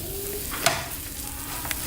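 Scrambled eggs sizzle steadily in a hot pan, close up, with a couple of sharp clicks from a utensil against the pan and no voices.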